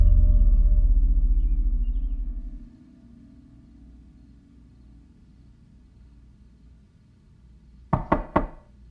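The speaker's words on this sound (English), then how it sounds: "I thought I would knock this time" Three sharp knocks land on a door near the end, loud and close, after a low rumble fades into a quiet room.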